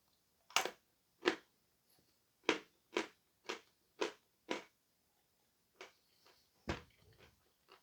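Bites into a piece of Crimean candy of medium hardness make a series of sharp, crisp crunches at an uneven, roughly half-second rhythm, close and distinct, followed by a few fainter chewing crunches.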